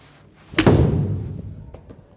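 Golf ball struck with a club, a single sharp impact followed by a brief fading rush, close and loud, with faint sounds after.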